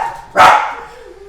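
A large dog, around 95 pounds, lets out a single loud, close bark indoors, followed by a short fading tail.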